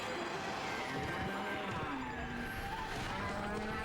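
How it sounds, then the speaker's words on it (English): A bull lows in the Okami video game, a deep drawn-out moo set against a faint steady game ambience, with no talking over it. "For the cow. No, it's a bull."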